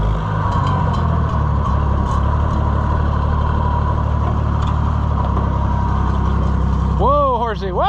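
A rough-running engine idles steadily and loudly up close, its low rumble constant throughout, with a voice talking over it near the end while fertilizer is being spread.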